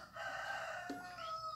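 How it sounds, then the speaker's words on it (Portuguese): A rooster crows once, faint and distant, its drawn-out call falling in pitch near the end. "O galo hoje está com a moléstia."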